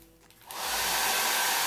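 A hair dryer switches on after a brief quiet start and settles into a loud, steady roar while drying paint on a decorated MDF penguin.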